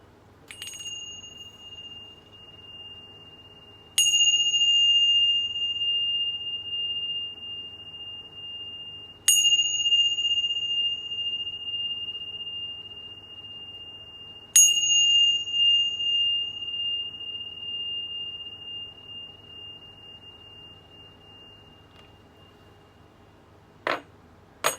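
A small chime bell rings four times at slow, even intervals, each strike clear and bright with a long ringing decay, heard alone in a quiet room before a tarot reading.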